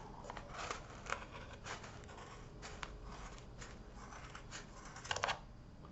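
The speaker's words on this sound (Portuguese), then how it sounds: "vou cortar esse pedaço aqui agora" Scissors snipping through wool yarn while a pompom is made, a series of soft, close crisp snips spread irregularly over a quiet background, with a small cluster near the end.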